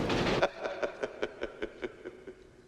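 A moving train in a film scene, a steady rhythmic clatter of wheels over rail joints, faint and fairly distant, after a brief louder rush at the start.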